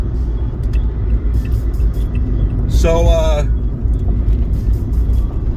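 A dump truck passing nearby with a loud, continuous low rumble and a brief rising whine or brake squeal in the middle; a voice speaks briefly.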